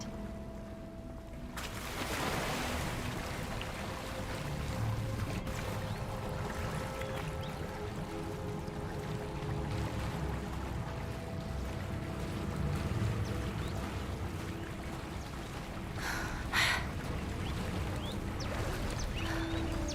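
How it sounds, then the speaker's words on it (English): Steady bubbling and gurgling water in a Hogwarts Legacy game scene, a continuous watery wash at moderate level with no talking. "Look, where the water's bubbling."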